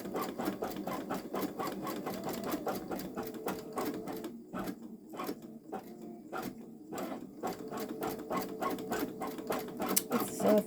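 A Babylock Solaris Vision embroidery machine stitches out a flower design at a slow speed, its needle chattering in a fast, even mechanical rhythm with a brief lull midway before resuming.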